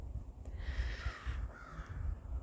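Crows cawing in a small wood, a few harsh drawn-out calls at moderate distance over a low outdoor rumble.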